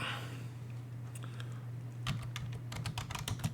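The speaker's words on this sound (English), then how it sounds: "in here you could type in the code" Code typed on a computer keyboard, light clicking keystrokes coming in quick irregular bursts after a quiet stretch, close up over a steady low electrical hum.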